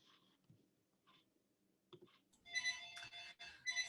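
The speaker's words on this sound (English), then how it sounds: "I've got a phone ringing in the background" A phone rings in the background of a home office, faint scattered clicks giving way to a brighter repeating ringtone pattern that swells toward the end, with no talking over it.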